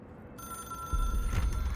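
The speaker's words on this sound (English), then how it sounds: "It is a phone." Electronic telephone bell ringing in the video game Control, a steady tonal ring with a sustained pitched line and a louder, fuller burst joining partway through, close and clear with no talk.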